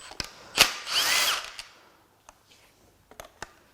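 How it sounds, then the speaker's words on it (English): A power tool works on the thermostat housing of a BMW Mini Cooper S N18 engine: a brief whirring burst among sharp clicks and clacks, close and fairly quiet, with no talking. "now we're going to take the thermostat housing off"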